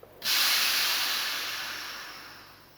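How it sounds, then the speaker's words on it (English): CO2 gas hisses steadily out of a pressurised beer keg being purged, a sudden loud, bright rush that holds for over two seconds and slowly weakens, with no voices. "very carefully purge the rest of the gas out of here, because there will still be some gas under pressure"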